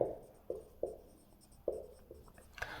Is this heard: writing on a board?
yes